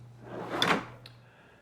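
A single drawer on self-closing glides in a tool cabinet slides shut with a soft rolling rush and a muted thump, followed by a faint click, close by and with no talk.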